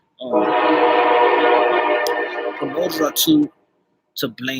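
A sustained, steady train horn sounds loudly from outside for about three seconds. It fades under a voice, which then continues alone.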